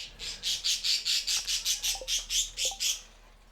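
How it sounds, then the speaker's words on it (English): Squawking bird calls repeat in a fast, even series of about a dozen loud, close, harsh notes, with a couple of faint higher chirps underneath and no talking. "There's a bluebird out there, and a cardinal, and starlings. There's lots of birds out there."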